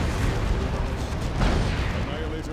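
Continuous, dense roar of sustained weapons fire and battle noise in the strategy video game Dawn of War II: Chaos Rising, loud and unbroken throughout.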